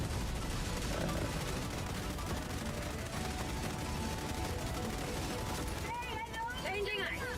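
Sustained gunfire fills a Helldivers 2 firefight on difficulty 9, dense overlapping shots and explosions running continuously and loud throughout, with voices talking over the battle.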